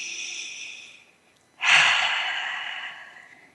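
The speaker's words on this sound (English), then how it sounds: "So let's take a deep breath together." A slow breath drawn in, a brief pause, then a long, loud airy exhale that fades away, close to the microphone with no speech.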